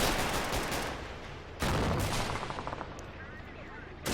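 Mortar blasts and gunfire in the World War II strategy game Men of War: Assault Squad 2, with dense continuous shooting and a loud heavy impact partway through, followed by a further rumbling barrage.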